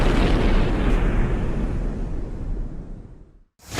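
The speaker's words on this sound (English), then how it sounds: "as we always like to do, we want to end with a boom" A big boom sound effect closes the business talk show, a loud burst that rolls on as a long rumbling decay before it cuts to silence and a fresh hit at the very end.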